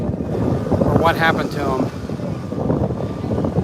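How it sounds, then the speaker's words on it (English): Gusty spring wind buffets the microphone on an outdoor walk past storefronts, a steady rumbling roar under a man's brief speech. "It's wind, I'll tell you."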